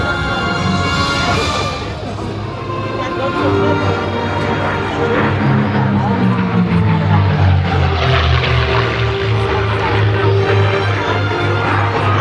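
Propeller aircraft with an almost 12-foot diameter prop flying a slot loop in formation at an air show, a loud sustained engine drone whose pitch sweeps downward and then steadies, with a faint voice underneath.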